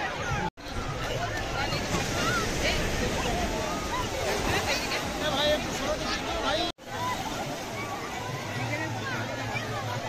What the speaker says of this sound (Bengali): হুড়োহুড়ি করে বড় বড় জোয়ার আসছে